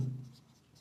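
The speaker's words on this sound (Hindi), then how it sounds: "ये लिख देंगे, माना" Chalk or marker scratching briefly on a board during a physics lesson, a faint short stroke over a quiet room with no talk.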